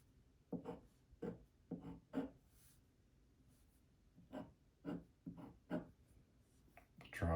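A pen scratches across paper in short bursts of quick strokes, faint and close, with pauses between marks as molecular structures are drawn; no speech.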